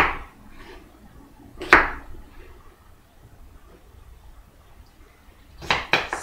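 Small red-skinned potatoes being cubed with a knife, heard as a few sharp, close knocks of the blade on the board in brief bursts, separated by quiet gaps.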